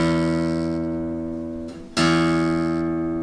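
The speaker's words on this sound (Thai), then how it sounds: "ผมอันที่สาย6ครับเสียง E ครับ" A guitar's sixth string plucked and sounding its low E note for tuning, re-struck partway through, with a sustained harmonic tone that rings out steadily and slowly decays, alone and close up.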